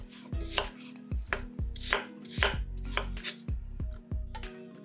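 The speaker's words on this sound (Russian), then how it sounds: "Очищенные яблоки нарезаем кубиками." Knife chopping peeled apples into cubes on a cutting board, a steady run of crisp, close thuds and clicks repeating roughly every half second, with no voices.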